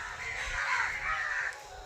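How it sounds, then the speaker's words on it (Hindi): Crows caw around a large tree outdoors, a harsh chorus of overlapping calls, fairly near and steady, with no one speaking. "कौआ सबके अहाँ आवाज़ सुनि सकै छियै, पूरा ओहिना क्या क्या कहि रहल यऽ"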